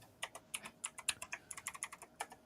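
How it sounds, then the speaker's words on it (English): Someone types rapidly on a mechanical keyboard: a quick, uneven run of sharp clicky keystrokes, faint and close, with no talk. "someone's rapidly typing hard. All right. That's Shannon with her mechanical keyboard"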